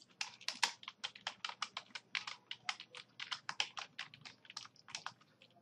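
Rapid, irregular keystrokes clatter on a computer keyboard while text is entered into Notepad, close and fairly quiet, with short pauses between bursts of clicks and no voices.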